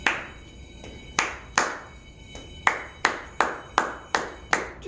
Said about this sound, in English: I'll clap it first.